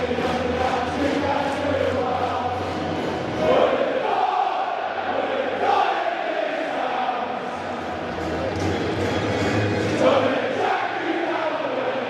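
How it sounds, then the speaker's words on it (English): Stadium crowd at a Coventry City versus QPR football match, a continuous loud roar of many voices with chanting and cheers swelling and easing across the whole stretch. "A pretty decent crowd here today as our first game as official owners of this stadium."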